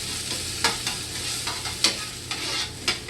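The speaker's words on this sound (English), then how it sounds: "Cook this celery on high heat." Chopped celery frying on high heat in a pan, a steady close sizzle broken by a few sharp scrapes and stirs of a utensil, with no talking.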